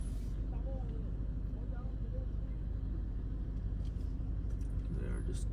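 Steady low rumble of car traffic on a busy road heard from inside a moving vehicle, constant engine and road noise with a person talking over it.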